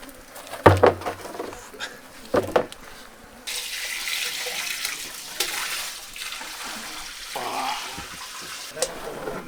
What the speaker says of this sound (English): Today's the day where we fill the manure into the biodigester